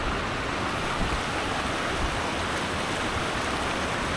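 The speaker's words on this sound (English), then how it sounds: "just past these rapids is a 20-foot waterfall" Rapids run just above a 20-foot waterfall in Ricketts Glen State Park, filling the air with a loud, steady, broadband rush of churning water, close and constant with no talk.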